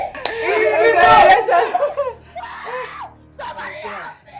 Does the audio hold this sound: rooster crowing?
no